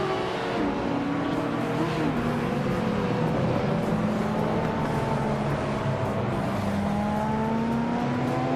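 Classic race car engines howl steadily through a video game race, several overlapping whining tones rising and falling as the close-running cars shift and pass one another.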